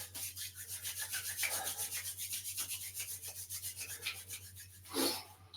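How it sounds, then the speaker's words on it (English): Hands rub briskly together in a quiet shiatsu class, a soft rhythmic rasping of skin on skin that repeats in even strokes over a low steady hum. "We're going to rub our hands together."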